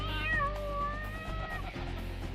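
A cat meows in a drawn-out, wavering cry that rises and falls for over a second, close and clear over a low background hum, then trails off into quiet rumble.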